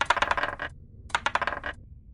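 Two quick bursts of dice clattering and rattling across a tabletop during a Dungeons & Dragons stealth check, close and clear, with a short pause between them and no talk.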